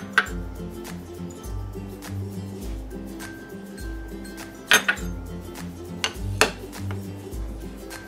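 A utensil clinks and scrapes in a bowl as yogurt, oil and Montreal spice are mixed together, with irregular sharp taps over a low steady hum, close by.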